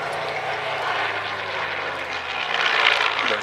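A Supermarine Spitfire flying past at the Warbirds over Wanaka airshow, a steady, broad engine roar that swells slightly near the end, with no talking.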